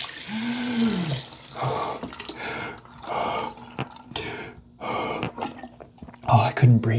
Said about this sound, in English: Wash off your face